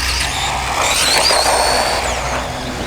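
A WLToys 20409 Agility 4x4 1/20-scale RC truck drives fast, its small electric motor a loud, steady high-pitched whine that rises and falls, with no voices.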